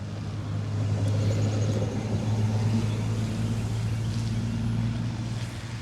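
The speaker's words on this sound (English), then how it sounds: "And then there goes more of our traffic out here." Vehicle traffic rolling past on a road near a wooded foraging trail, a steady low engine-and-tire rumble that stays fairly loud and constant, like a car or truck passing close by, with no talking.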